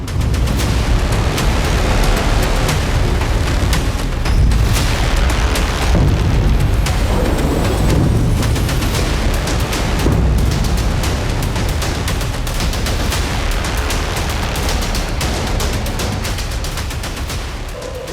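Iranian Sejjil missile strikes exploding in Israel, a loud, dense, unbroken roar of booms and crackling blasts that lasts throughout with no voices, easing slightly toward the end.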